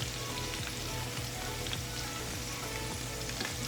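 Banana flower vadai deep frying in hot oil, a loud, dense, continuous sizzle and crackle that stays steady throughout, close up and with no voices.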